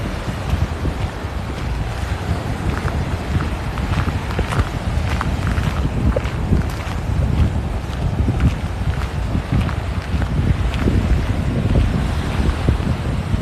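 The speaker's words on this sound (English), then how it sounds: "Sorry about the wind." Steady wind buffets a microphone on a Gulf-coast beach walk at Tigertail Beach, with a continuous low rumble and repeated gusty thumps. Surf hiss sits faintly under it and no one speaks.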